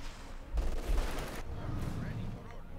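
Machine gun fire in the World War II strategy game Company of Heroes 2, a rattling burst of rapid shots with bursts of gunfire and distant battle noise continuing behind it.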